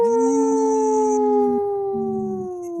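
Two people on a radio show imitate wolves with long, sustained, slowly falling howls that overlap, one voice breaking off briefly and returning, loud and close.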